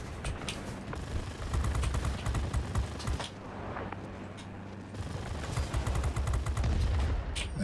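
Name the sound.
plane machine gun fire in the video game World of Warplanes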